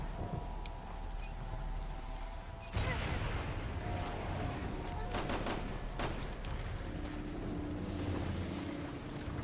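Bursts of gunfire in Resident Evil 6, sharp shots and rapid volleys starting near three seconds and continuing over a rumbling background, fairly loud.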